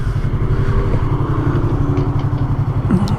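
A matte black 2019 Yamaha YZF R3 motorcycle engine idling up close, a loud, steady low throb with an even pulsing rhythm and a light mechanical clatter on top, no talking.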